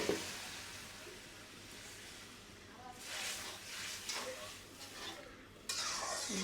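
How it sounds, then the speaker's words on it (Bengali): Cumin seeds dropped into hot oil give a faint, quiet sizzle in short hissing bursts, with some soft kitchen clatter around them. "জিরাটা তেলে দেওয়া হয়ে গেল।"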